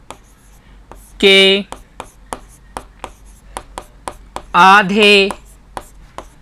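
A pen scratches out a quadratic equation by hand in sharp, rhythmic strokes and taps, close and clear, while someone speaks briefly in Hindi twice between the strokes.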